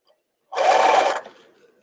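Sewing machine stitching a tutu, one short burst of rapid whirring stitches lasting under a second, close and clear, then trailing off into quiet motor hum.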